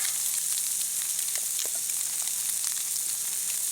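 Canned ham and dehydrated hash browns fry in grease in a pan, giving a loud, continuous, close sizzle with bursts of crackle throughout and no voices.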